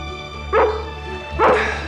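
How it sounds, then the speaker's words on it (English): Scruffy the dog lets out two loud, close barks roughly a second apart, each one a sharp yelp over a low steady background hum. "He's really a wonderful dog."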